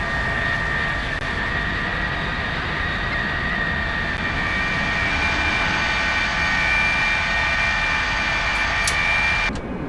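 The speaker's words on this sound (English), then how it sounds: "So now the engines are running" Jet engines on a Lockheed TriStar run steadily at idle, a loud continuous roar with a high whining tone held throughout, no talking over it.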